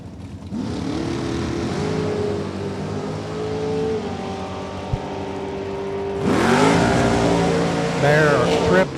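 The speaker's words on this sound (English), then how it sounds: "Ty Davis, 471, 146 miles an hour for the little Bantam Altered." A little Bantam Altered drag racing car makes its run, a loud sustained engine roar holding a steady pitch before a sharp rise in revving near the end, with an announcer talking over it.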